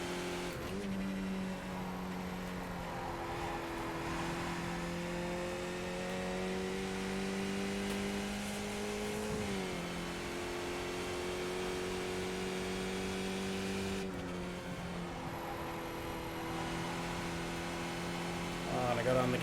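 Skip Barber race car in iRacing at Zolder, its engine droning steadily with rising and falling pitch as it accelerates and shifts, running continuously under low background hum and occasional speech.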